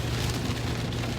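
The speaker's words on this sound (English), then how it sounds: "It is very rainy and wet" Steady rain falls outside on an early wet morning, a dense even hiss of drops on surfaces with no breaks and no voices.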